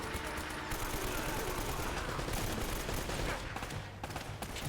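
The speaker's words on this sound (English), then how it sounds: "we use the AK there to shoot at that turret" Rapid AK rifle fire aimed at a turret in Uncharted: Drake's Fortune, a dense stream of game gunshots at moderate level that thins out toward the end, with a voice talking underneath.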